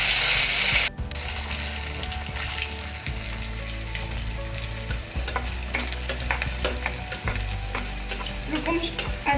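Bottle gourd pakora batter drops into hot oil and fries with a steady close sizzle, with occasional stirring scrapes and light clinks, and no voices.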